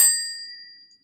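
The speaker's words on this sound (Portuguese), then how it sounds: "tem que apertar o sininho, e aí ganha as cartas" A single bright ding from the small bell of a Halli Galli Junior card game, struck once, clear and close, with a ringing tone that fades out over about a second.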